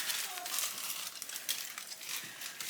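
Thin aluminium hair-bleaching foils crinkle and rustle close by as they are pushed aside during a platinum bleach, a steady papery crackle with a few sharper crisp bursts.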